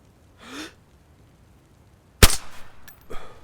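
A single gunshot cracks out sharply during an in-game shooting lesson, preceded by a soft breathy sound and followed by a decaying tail and a second, weaker burst.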